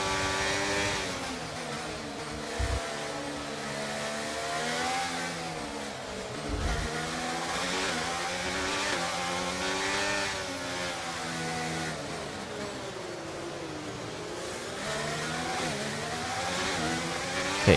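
Formula 1 cars race in the game F1 23, a high engine whine rising and falling through gear changes and throttle lifts, loud and close, with brief thumps and no talking.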